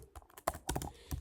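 An email address is typed on a computer keyboard in quick, irregular keystrokes, close and fairly quiet, with nobody talking.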